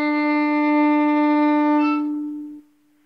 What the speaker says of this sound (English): That is the D string.